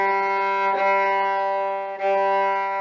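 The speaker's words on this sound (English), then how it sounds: "we're going to play our open G four times" An open G string bowed on a violin in a beginner lesson: steady sustained bowed tone, loud and close, with faint bow changes marking repeated strokes and no talking.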